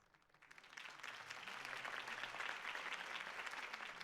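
Crowd applause in the video game Batman: The Telltale Series swells in after a quiet start and holds steady, a dense wash of many hands clapping at moderate distance.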